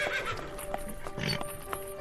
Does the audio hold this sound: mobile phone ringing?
no